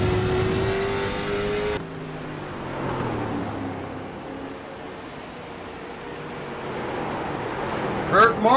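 A race car engine holds full throttle over a hill, loud and sustained, with a droning tone that drops in pitch partway through and a steady roar continuing underneath.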